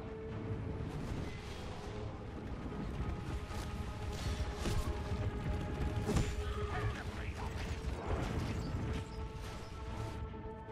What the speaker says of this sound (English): The distinct sound of crossbow bolts.